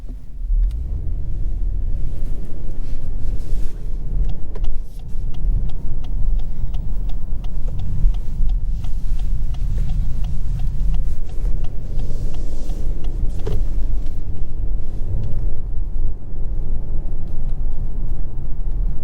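A 2023 Lexus LS500 AWD accelerating, heard from inside the cabin as a steady, full low rumble of engine and road noise that holds evenly throughout, with no talking.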